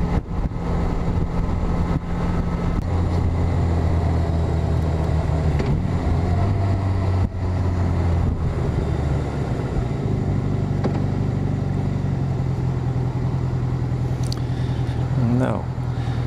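Steady car engine drone on a Dutch road with a 50 km/h limit as the driver lifts off the throttle, the low hum gradually settling and dropping in pitch, close and continuous under road noise.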